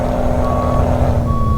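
A Peterbilt 379 truck backing up in Euro Truck Simulator 2 sounds a steady electronic reversing beep over a loud low diesel idle, close and continuous with no talk.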